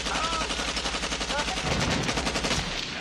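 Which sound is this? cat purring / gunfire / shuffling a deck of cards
gunfire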